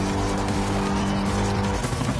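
Racing cars in Gran Turismo Sport jostle and overtake, engines droning steadily with tire squeal and skidding mixed in, loud and continuous throughout.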